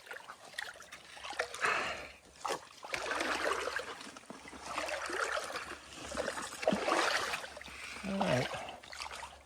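Legs wading through a shallow river crossing on the Florida National Scenic Trail, rhythmic sloshing splashes rising and falling close by, with a brief spoken remark partway through.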